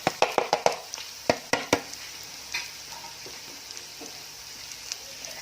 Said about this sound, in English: We'll give it a quick stir as the onions fry for another 3 minutes